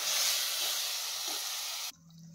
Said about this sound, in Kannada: ಈ ಹುಣಸೆ ರಸ ನೀಟಾಗೆಲ್ಲ ಬೆಂದು ಆಯಿಲ್ ಬಿಟ್ಕೊಬೇಕು, ಅಲ್ಲಿ ತನಕ ಫ್ರೈ ಮಾಡ್ಕೊಬೇಕಾಗತ್ತೆ